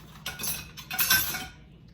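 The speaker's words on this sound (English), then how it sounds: "use this just to mix it together to make sure we get all that salt and baking soda everywhere" Dry cookie ingredients, salt and baking soda, are stirred together in a bowl with a utensil, giving two quick bursts of scraping and clinking, soft and close.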